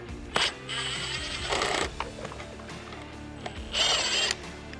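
A power driver fitted with an 8mm socket whirs in three short bursts, close and clear, backing a screw out of the fang light mount on a Can-Am Maverick X3, with quiet handling clicks between runs.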